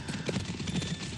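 Horses ride past as an audiobook sound effect, with rhythmic hoof clip-clops at a steady trotting pace, fairly loud and close, alone without speech.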